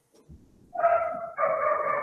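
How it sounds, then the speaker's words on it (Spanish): Dog barking during a talk: two long, loud barks or howling yelps close by, each sustained, with faint background murmur at the start. "Fíjate el bicho como ladra."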